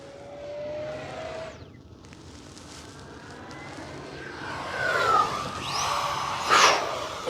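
An FMS Yak 130 70mm electric ducted-fan RC jet flying at full speed, its whine rising and falling in pitch as it passes, then roaring louder and closer near the end.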